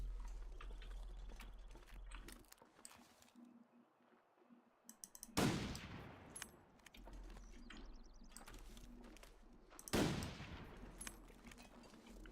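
Two sharp gunshots from a rifle in The Long Dark, each a loud, crisp crack several seconds apart, with quiet clicks and faint ambient sounds between them.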